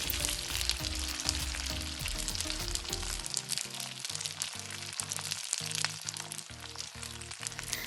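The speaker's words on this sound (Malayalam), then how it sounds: "ഓയിലൊന്ന് ചൂടായി വന്നതിന് ശേഷം കുറച്ച് കറിവേപ്പിലയിട്ട് നമുക്ക് വറുത്ത് കോരാം" Curry leaves frying in hot oil in a pan for ribbon pakkavada, a Kerala snack: steady, soft crackling sizzle with sharp pops, under a repeating musical backing.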